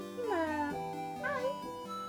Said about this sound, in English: My cat just woke up.